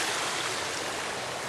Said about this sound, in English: camping spot here that we found along the road, right next to a creek